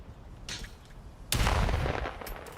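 Gunfire from a Call of Duty match: a faint burst early on, then a loud sustained volley that fades out, with no voices over it.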